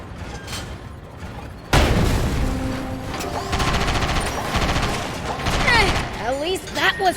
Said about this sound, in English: The tank gun should do the trick.